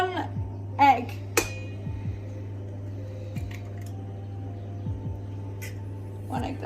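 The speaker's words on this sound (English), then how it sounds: "Next job is to crack the eggs." Eggs are cracked against a mixing bowl fitted with mixer beaters: a sharp close crack and clink stands out, with a softer tap, over a steady low hum, and a voice speaks briefly.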